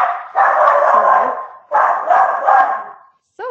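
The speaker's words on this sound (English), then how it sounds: "The perks of an office dog." An office dog barks loudly and close in two sustained bursts of rough, overlapping barks, separated by a brief pause, with a short yip at the very end.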